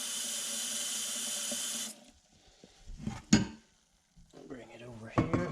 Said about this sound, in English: So we're gonna fill it up to about here with cold water